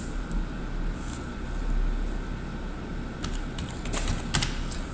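Computer keyboard typing as a CNIC number is entered, light scattered key clicks that get busier toward the end over a steady hum of fan or air conditioning.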